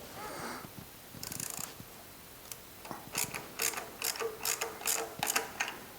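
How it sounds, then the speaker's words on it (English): Bolts being tightened on the steering rack of a Jaguar XK 150 roadster: bursts of quick ratchet clicks in short, irregular runs, close up and fairly quiet, with no talk. "So the next thing down is to tighten everything down and get everything in the right position."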